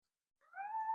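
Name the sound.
cat meowing for attention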